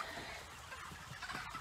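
A flock of 39-day-old broiler chickens inside a chicken house, a faint continuous murmur of many birds chirping and clucking at a distance.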